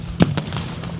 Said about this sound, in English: There goes the Lewis gun number 2.